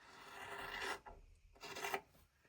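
Scissors rasp through quilting fabric to trim the seam allowance on a Christmas tree quilt block, two close snipping strokes with a brief pause between, no talking.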